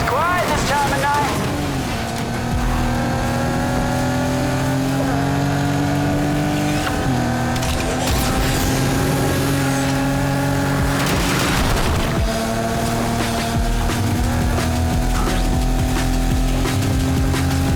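Engines of street cars racing at night in Need for Speed Heat, steady layered revving and roaring throughout with occasional booms, as people talk over the top.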